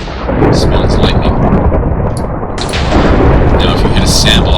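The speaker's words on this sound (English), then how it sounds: "Spawns lightning." Lightning called down by the Thor weapon in the Minecraft Zollern Galaxy mod strikes with loud, rumbling thunderous crashes, a continuous heavy roar with sharp crackling bursts layered on top.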